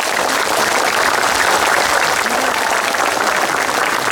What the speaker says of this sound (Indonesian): Aplaus yang meriah-meriahnya buat pejuang-pejuang kita pada hari ini.